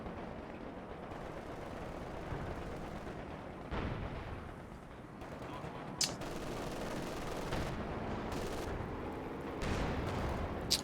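Tank gunfire in Company of Heroes 2 booms through a continuous rumble of battle, with several sharp, loud cannon shots spaced a few seconds apart over steady explosion-like noise.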